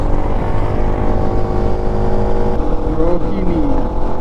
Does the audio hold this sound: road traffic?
yes